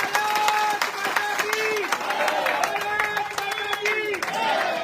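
A crowd claps in sharp, scattered bursts at a street-corner political rally in North East Delhi, mostly under someone speaking loudly into an amplified microphone.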